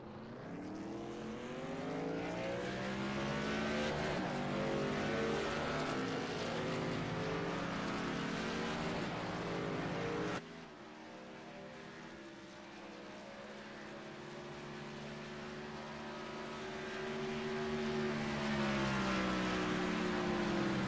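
Racing trucks roar around the track during qualifying laps, a continuous loud engine drone with rising and falling pitch as vehicles pass, a sudden drop midway, then building again toward the end, with no voices.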